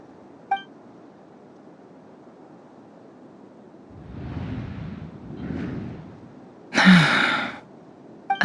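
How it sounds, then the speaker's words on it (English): A game character gasps in Genshin Impact, a quest scene in Nod-Krai: a soft sigh-like breath, then one sharp, loud gasp near the end over a quiet background hum. "I heard Yehuda gasp"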